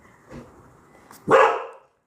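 Griffin, a pet dog, gives a single loud, close bark after a fainter earlier yelp, alone in a quiet room with no talking.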